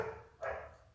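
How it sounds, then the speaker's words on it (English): A few dog barks come from another room, muffled and mid-distance, with one louder bark burst in the middle over a steady background hum. "My dogs decided to bark once again."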